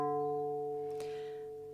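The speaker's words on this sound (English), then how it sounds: "tune your D, and that's going to be tuned to D natural" One plucked D string on a harp, tuned to plain D natural, rings out clearly and decays gradually over nearly two seconds, with a soft touch noise partway through and no voices.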